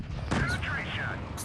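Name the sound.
tank gun firing a shot, from a video game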